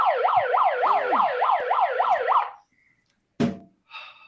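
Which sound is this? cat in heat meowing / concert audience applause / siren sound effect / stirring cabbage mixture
siren sound effect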